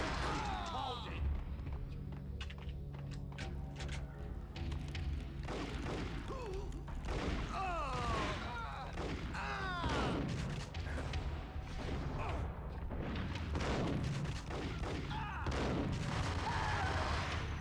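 Gunfire in the Max Payne video game, rapid bursts of shots and thuds layered with shouting voices and background game sounds throughout.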